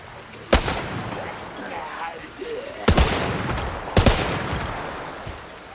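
Gunfire in the zombie survival game Project Zomboid, three loud sharp shots spread across a few seconds over a busy, noisy game background with lingering echoes, close and clear.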